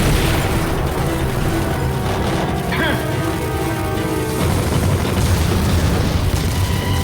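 A missile explodes in the Metal Gear Solid video game: a loud, dense roar of booming rumble that continues for the whole stretch, layered with game music and effects.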